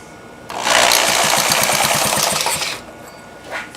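A small petrol engine catches after being spun with a tool, revving loudly for about two seconds in a dense, rapid rattling buzz, then dropping away.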